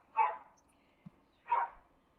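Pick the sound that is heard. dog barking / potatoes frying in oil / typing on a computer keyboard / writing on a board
dog barking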